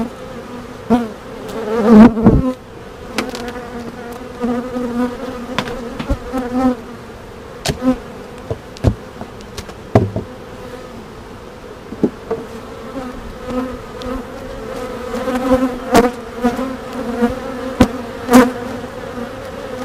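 Honeybees buzz at an opened beehive during an early May inspection, a loud, dense, continuous drone with occasional sharp clicks and knocks from the hive boxes.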